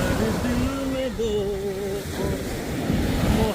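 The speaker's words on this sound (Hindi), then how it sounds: "ये सागर की लहरें मेरी आवाज़ से भी ज़्यादा ऊंची जा रही हैं" Sea waves wash onto the beach at Phuket in a continuous loud surf roar with wind buffeting the microphone, while a voice sings and talks over it.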